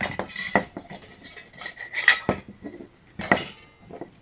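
Metal parts of a wood-burning camping stove, a burner base and a top piece, being handled and fitted together: several sharp, close metallic clanks and clinks at irregular intervals, with no voices.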